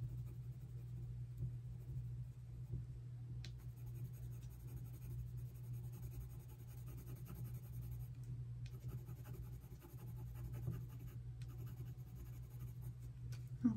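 Colored pencil shading on paper, a soft, faint continuous scratching of the lead against the sheet in short strokes over a low steady hum, with no talk.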